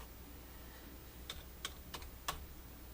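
Several quick keystrokes tap on a computer keyboard, a short irregular run of faint, close clicks over a quiet background.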